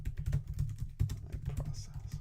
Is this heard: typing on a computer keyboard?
yes